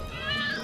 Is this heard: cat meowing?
yes